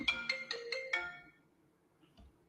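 A phone rings for an incoming call with a short melodic ringtone of five rapid bright tones in a quick run. It fades out after about a second, leaving near silence and a faint later blip.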